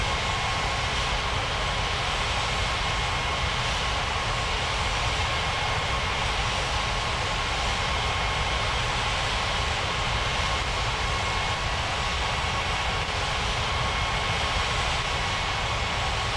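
An airliner's engines hum steadily as it taxis on a runway in a flight video game, a constant loud drone with no breaks and no talking.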